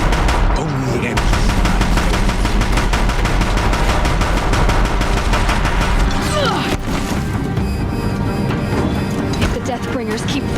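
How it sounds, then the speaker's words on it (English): Deathbringer war machines in Horizon Zero Dawn pour continuous heavy gunfire, a dense, loud barrage of rapid booming shots and crashes with speech in the mix. "If the Deathbringers keep firing, this bridge will go."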